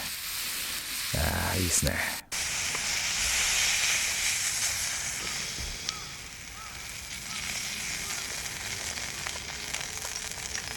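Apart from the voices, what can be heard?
meat sizzling on a grill while car camping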